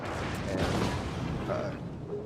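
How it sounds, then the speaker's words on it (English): A German battleship's secondary guns boom in a naval battle, with muffled, rumbling cannon fire rolling on continuously and at middling volume, blended into a dense layer of combat noise. "secondaries are going to be firing at him"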